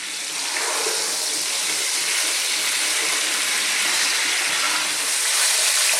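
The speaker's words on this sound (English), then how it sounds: "we're just going to brown this meat for about 4 to 5 minutes" Lamb meat for a Middle Eastern saloona stew browns in a hot pan, giving a steady, loud, broad sizzling hiss that carries on without a break, with no voices.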